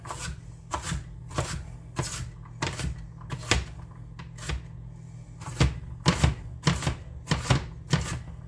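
A knife chops celery on a cutting board for a fish chowder, with crisp, close, regular thuds in uneven bursts, a brief pause midway, then a faster run of strokes, with no voices.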